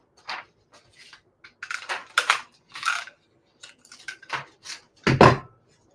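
A craft punch stamps a moon shape out of thin paper, close-up crunching and clicking in short bursts separated by silence, ending with one louder snap.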